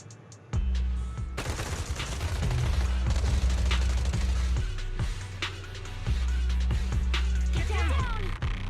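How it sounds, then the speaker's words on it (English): Rapid automatic gunfire from Zenless Zone Zero combat, dense volleys of shots and bursts rattling continuously and loudly over a heavy low rumble, with brief pauses between sustained barrages. "Suppressive marching fire."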